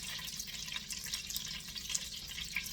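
Water pops and spits in hot butter in a frying pan while veal is prepared, a dense continuous crackle of small close pops over a steady sizzle.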